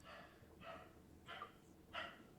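A dog barks three times in short, evenly spaced bursts, faint and distant in the background of an indoor recording with no talk over it.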